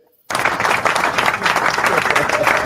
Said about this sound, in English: I can give Jam the applause button.